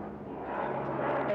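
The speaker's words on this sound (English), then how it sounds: "Those are the helicopters from Roissy to Issy-les-Moulineaux." Helicopters flying overhead on the route between Roissy and Issy-les-Moulineaux give a steady, rumbling engine drone that swells slightly, with talking over it.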